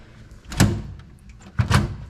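Rear entry gate on a 2018 Sweetwater 2386 pontoon boat swinging open, two distinct metallic clunks about a second apart, close and fairly loud over quiet background.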